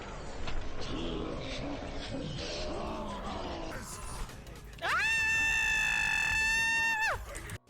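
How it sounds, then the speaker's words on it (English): A person screams loudly and shrilly for about two seconds near the end, a sustained high-pitched shriek that follows a stretch of mixed sounds and muffled voices. "I'm so sorry I'm screaming like that"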